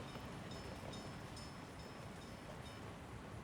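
A train runs in Workers & Resources: Soviet Republic, heard as a steady, dense, moderately faint rumble with a few light metallic tones on top and no voices.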